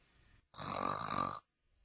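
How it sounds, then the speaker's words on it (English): A sleeping boy gives one soft, drawn-out snore lasting about a second, quiet and close, with near silence before and after. "A soft snore told that tired nature's sweet restorer, balmy sleep, had again taken the little fellow captive"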